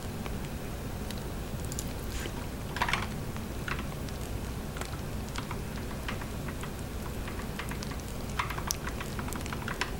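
Computer keyboard keys tapped in short irregular bursts over a steady low hum, a quick run of close, light clicks as a short phrase is typed.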